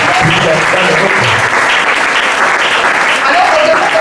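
A church congregation at a Sunday worship and thanksgiving service claps for the Lord in loud, sustained, dense applause that fills the room without a break.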